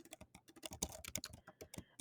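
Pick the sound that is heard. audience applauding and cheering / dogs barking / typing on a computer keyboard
typing on a computer keyboard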